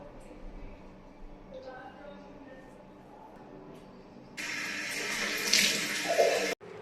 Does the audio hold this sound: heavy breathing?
no